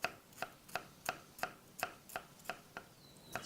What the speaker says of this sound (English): then you want to just really kind of finely slice them